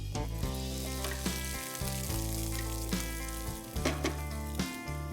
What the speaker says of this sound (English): I'm going to start with sauteing all the vegetables.